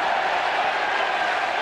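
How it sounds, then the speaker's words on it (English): Football crowd at Elland Road during Leeds United against Coventry City in the 1991/92 First Division, a steady roar of cheering filling the stadium at an even, loud level. "the cheer that went up around Ellen Road"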